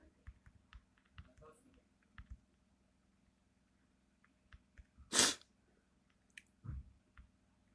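Sparse, faint key taps and clicks from someone typing a message, scattered irregularly across a quiet room with a sneeze-like burst partway through and occasional low voice sounds.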